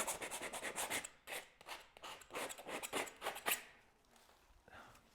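Rapid repeated rasping strokes of a tool scraping excess texture off the surface of a large painting, close and fairly faint, in an uneven back-and-forth rhythm that slows toward the end.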